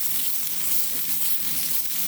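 Mushrooms frying in a pan with a little oil for a vegan stir-fry, a steady close sizzle running continuously without breaks and no voices.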